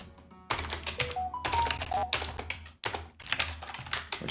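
Rapid clattering keystrokes on a computer keyboard while coding, steady close-up typing in irregular bursts with brief pauses, no talk.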